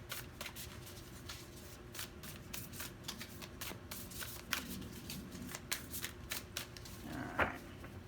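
Tarot cards are riffled and shuffled close by in a quick, crisp run of flicks and slaps, ending as a card is pulled from the deck, with no talking.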